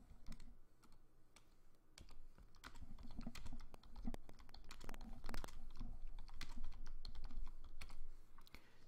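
Steady, busy typing on a computer keyboard, with quick clustered keystrokes running throughout at moderate loudness and no voices.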